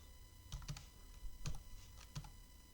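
Keys clatter on a computer keyboard as code is typed, a few quiet, separate clusters of taps with short pauses between them, close and with no talk.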